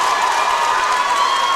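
Loud crowd at a high school basketball game between Breathitt County and Perry County Central roars and cheers after a block and dunk, a dense steady wall of applause and shouting filling the whole moment.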